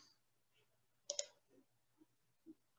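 A quick double click of a computer mouse, close and crisp, followed by a few faint softer taps in a quiet room.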